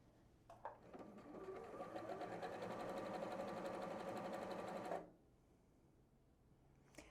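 A Bernette 38 sewing machine runs a zigzag stitch, a steady fast mechanical whir with rhythmic needle clatter for about four seconds, then stops abruptly, leaving quiet room tone.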